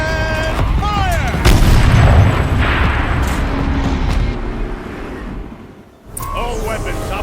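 Heavy turret cannon fire from Horizon Zero Dawn, booming blasts and rumbling impacts sustained over several seconds with a brief dip near the end, mixed with in-game voices and music.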